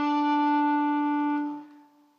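A single electric guitar note picked at the 7th fret of the G string rings out clearly and alone, sustaining for over a second before fading away.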